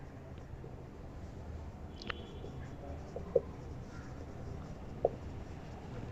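A pen scratching out the given values of a maths problem on paper, a faint, steady scratching with a couple of sharper taps, heard alone.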